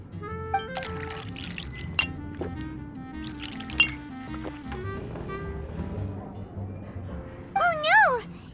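Juice poured into a glass in Genshin Impact, bubbly liquid glugs and drips over in-game music, followed by a short rising chime.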